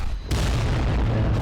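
Volcano cannons fire long-range shots in the Adeptus Titanicus: Dominus video game, a loud, deep booming blast that swells suddenly and then rumbles on steadily without fading.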